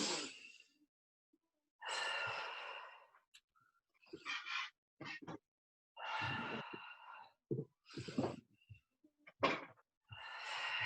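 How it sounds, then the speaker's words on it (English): Exaggerated deep breaths in and out during a middle-splits flexibility class, heard as several breathy, drawn-out inhales and exhales with short pauses between them, close and fairly quiet, with no talking. "Exaggerate that breathing."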